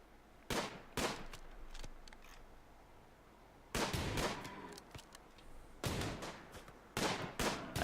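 Gunfire in the video game RimWorld: sharp shots in short volleys, two single cracks early, then a longer burst after a pause and more clustered shots toward the end, loud against a quiet background.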